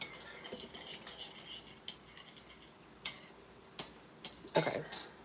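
Shortbread dough is mixed in a bowl, with sparse, quiet clinks and taps of a utensil against the bowl at irregular intervals and little else around them.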